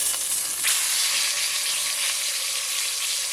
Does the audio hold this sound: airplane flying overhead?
no